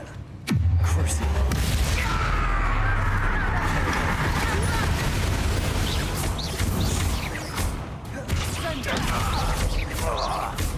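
Heavy booming blasts and crashing impacts from Bombarda spells in the video game Hogwarts Legacy, loud and sustained from the start, with a voice speaking over the battle.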